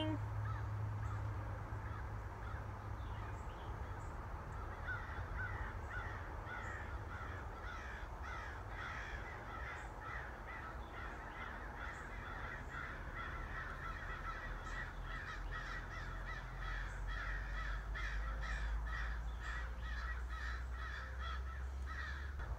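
Several crows cawing outdoors in the morning, repeated harsh calls in quick bursts, some near and some farther off, over a steady low background hum, with a person speaking softly at times.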